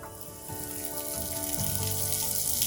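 Olive oil sizzles steadily in a screaming hot pan as chimichurri goes in, a close, continuous frying hiss that builds slightly louder toward the end, with no talking.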